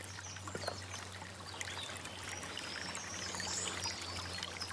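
Water running through channels between four garden plots in a secluded cloister garden, a soft steady trickling flow with faint bird calls in the background.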